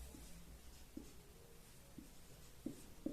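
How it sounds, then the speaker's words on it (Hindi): Pen or chalk writing by hand during a maths lesson, a handful of short scratchy strokes spaced about a second apart, faint and close, with no talk. "तो यहाँ पर लिखेंगे जांच"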